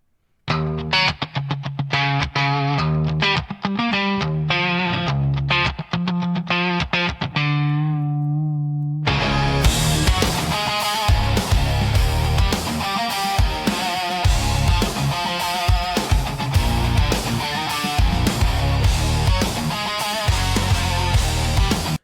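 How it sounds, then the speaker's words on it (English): An AI-generated Suno song driven by electric guitar, with deep male vocals and hard bass, opens with a sparse, choppy section before surging into a loud, dense full-band passage that plays on without talk. "here's the electric guitar driven male deep vocals hard bass"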